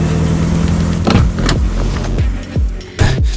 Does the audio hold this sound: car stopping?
yes